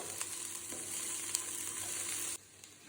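Cabbage and beans being stir-fried in a pan for fried rice, a continuous close sizzle with light stirring scrapes that cuts off abruptly near the end.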